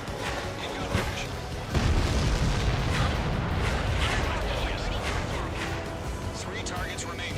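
Destroyed targets explode in the jet combat game Ace Combat 7, a dense rumbling roar of blasts with a heavy boom near the start, under continuous radio chatter and engine noise.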